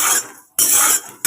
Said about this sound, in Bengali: বাদাম ভাজা করে নিচ্ছি